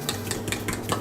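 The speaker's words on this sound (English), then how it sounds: "I'm probably going to beat this just a little bit with the fork" Fork beating eggs in a bowl for a stovetop frittata, a quick run of light clinking taps at a steady rhythm over a low kitchen hum, close and fairly quiet, with no talking.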